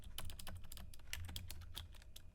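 Rapid typing on a computer keyboard during a command-line troubleshooting session, a quiet, steady patter of key clicks with a few sharper taps, heard alone without talk.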